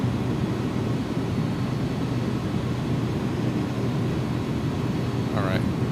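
Engines of an iniBuilds A300-600F freighter in X-Plane 12 spooling up: a steady, loud, broadband jet roar and low rumble that holds constant throughout, with a brief higher chirp near the end.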